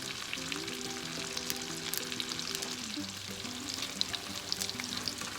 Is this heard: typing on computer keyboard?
no